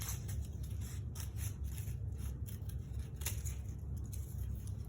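Scissors cutting through a paper circle, a run of repeated close snips and crisp paper crunches over a low steady background hum, no talk.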